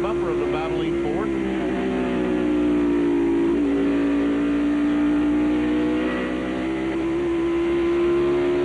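NASCAR Winston Cup stock cars, including a Ford, race at Bristol in a 1995 night race, their engines a continuous loud roaring drone beneath a commentator talking.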